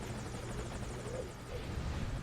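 Helicopter in the video game Metal Gear Solid, a steady rotor thrum and engine drone holding at a constant low level throughout, with no voices over it.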